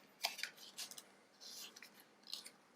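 Stationery packaging is cut open with scissors. Quiet, close snips and crinkly rustles come in short bursts separated by brief pauses, and there is no talking.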